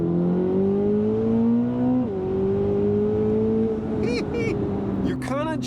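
A 2026 Chevrolet Corvette ZR1 engine pulls hard under acceleration with a loud, steady drone that climbs in pitch, drops briefly at a gear change and climbs again. Short chirps and squeals come near the end.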